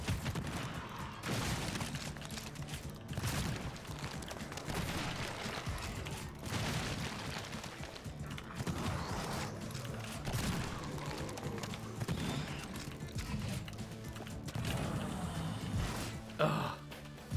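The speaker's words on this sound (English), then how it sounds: "Blasting things with a super shotgun is like one of the greatest feelings in gaming." Repeated heavy super shotgun blasts in the fast-paced shooter Project Warlock II, booming over dense game music and chaotic combat noise, continuous and loud throughout.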